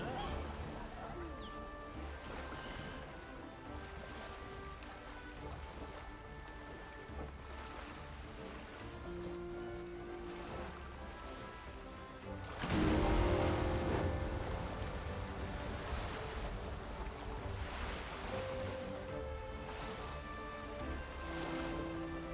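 A ship sailing across the ocean in the video game Lost Ark, with a steady wash of waves and wind under background game music, swelling louder as a surge of water hits partway through.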